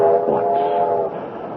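A moving train in a radio drama, rendered as a steady, loud rumbling roll with a sustained horn-like tone through the first second, then easing slightly as the chug continues alone.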